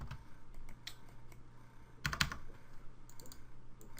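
Someone types on a computer keyboard to log in: a short run of quick key clicks with a denser burst in the middle, close and moderately loud over faint background hum.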